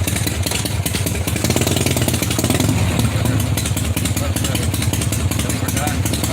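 A 1981 Harley-Davidson FXB Shovelhead engine runs steadily in gear with a dense, clattery V-twin chug, close and loud for several seconds, while someone talks over it.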